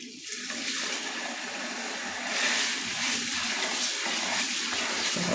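Running water from a kitchen tap gushes steadily over basmati rice being rinsed, a continuous close splashing rush that swells slightly partway through, with no talking.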